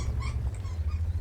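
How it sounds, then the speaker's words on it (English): Small dog squeaks and whimpers faintly in the background behind a gaming setup, with brief high cries scattered over a steady low hum. "Alright, little squeaky dog, you're squeaking a little bit too much behind me here."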